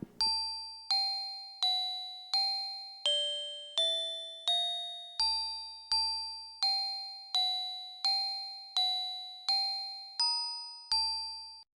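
A MIDI file plays back through a free MIDI editor as a sequence of bright, bell-like synthesized tones, about a dozen evenly spaced notes that each ring and decay, clear and alone.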